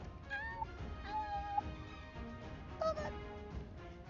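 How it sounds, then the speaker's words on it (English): A house cat gives several short, plaintive meows close by, spaced across a few seconds over quiet room noise. "My cat's trying to steal it again."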